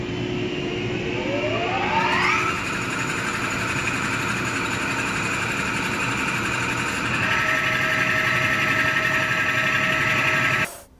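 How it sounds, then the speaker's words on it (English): A waterjet cutting machine's high-pressure pump starts and builds toward 50,000 psi, its whine rising in pitch over the first couple of seconds before settling into a loud, steady mechanical drone that cuts off abruptly at the end. "We can now start the waterjet pump."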